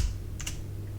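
Two quick keystrokes on a computer keyboard, soft and close, against a low steady hum, with slow typing and no voices.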